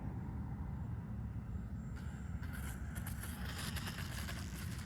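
Volantex F4U Corsair 500mm RC plane with UMX electronics coming in to land, a steady low wind-blown rumble with light electric motor whine and some higher hiss partway through, fairly close and continuous.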